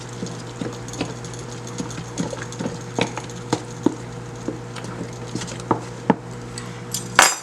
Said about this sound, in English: I'm going to add 2 cups of fruit. And I will mix this in.